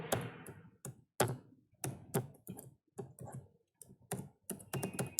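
Someone types a line of Python input code on a computer keyboard, sending fast, close bursts of crisp key clicks separated by short pauses, with no talking.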